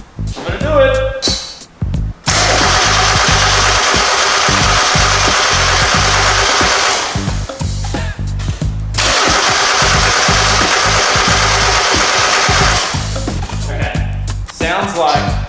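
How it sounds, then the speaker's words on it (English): A Mazda MX-5 Miata engine cranks over on the starter in two long, loud bursts of rapid rhythmic churning without catching, with brief pauses and clunks between attempts. "Okay, I'm gonna crank it."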